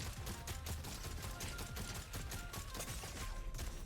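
Rapid, steady automatic gunfire from a Fortnite Zero Build match runs continuously at moderate loudness, dense and unbroken for several seconds with no talking over it.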